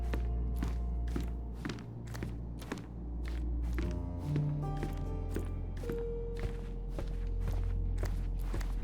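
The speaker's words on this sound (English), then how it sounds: "I heard footsteps upstairs a second ago" Footsteps sound from upstairs in the game Sherlock Holmes: Chapter One: a steady run of evenly spaced, muffled thuds, moderately loud over a low ambient hum.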